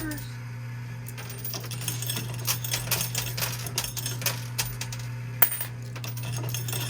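Quarters clatter and drop in a coin pusher machine at an arcade, a run of sharp metallic clinks and small jingles over a steady mechanical hum, with one louder clack near the end.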